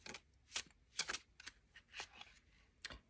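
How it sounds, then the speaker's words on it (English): Tarot and oracle cards shuffled by hand in a quiet room, with about half a dozen soft riffling bursts spaced irregularly, close and faint. "So I'm going to pull a couple cards from this deck."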